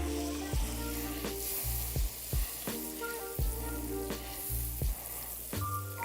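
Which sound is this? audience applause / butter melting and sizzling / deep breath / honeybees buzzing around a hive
butter melting and sizzling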